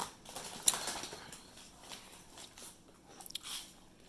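Someone bites into and chews small crunchy apple crisps at close range, giving a sharp crack and then soft intermittent crunching, with a couple of quick clicks near the end.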